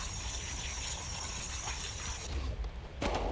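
Skateboard grinding along a rail in the video game Skate, a continuous metallic scrape and rattle over low rolling noise that ends in a sharp clack.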